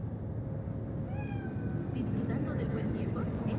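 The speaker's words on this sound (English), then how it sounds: "Chill. It's just a cat." A cat meows in the video game Cyberpunk 2077, a few rising, drawn-out mewing calls over a dense low rumbling ambience, with a voice speaking at the same time.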